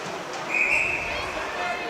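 A referee blows a single short, shrill whistle blast at center ice during a Warroad vs. Roseau boys' high school ice hockey game, rising clearly over the steady rink crowd murmur.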